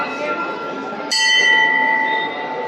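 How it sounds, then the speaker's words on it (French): A temple bell in India rings out with a bright, sustained metallic tone that lingers over a busy background roar. "Là, il y a toujours la cloche."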